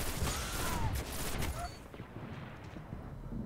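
Dense bursts of pulse rifle fire in Destiny Iron Banner PvP matches, a busy wash of overlapping shots and game noise that thins out toward the end.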